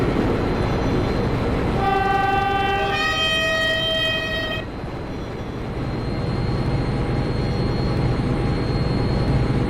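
A train on a quiet branch line rumbles steadily along the track, and its horn sounds two loud toots partway through.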